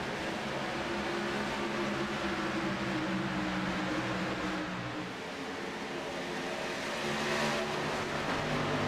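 A pack of race cars accelerates on a restart at a Kansas blacktop track, a steady blended engine roar holding loud and continuous, swelling slightly near the end.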